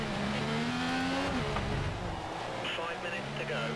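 An F1 race car engine in the video game F1 2014, during China qualifying and running low on fuel with possible engine trouble, holds a steady droning tone that shifts pitch, under continuous talk.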